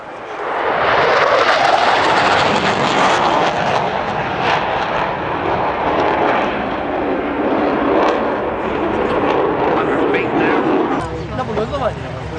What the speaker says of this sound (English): running in from the left is the arrival of the Fouga